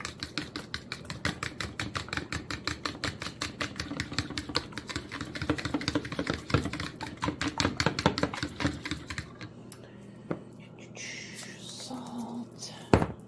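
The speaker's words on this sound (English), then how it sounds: "I want to mix these eggs" Fast, steady clicking of a utensil whisking eggs in a bowl for about nine seconds, close and fairly loud, then a few softer clinks and a thump as the whisking stops.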